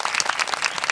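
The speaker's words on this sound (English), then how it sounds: "I would love a round of applause here" Applause from a crowd, dense overlapping clapping that stays steady and fairly loud for the whole moment.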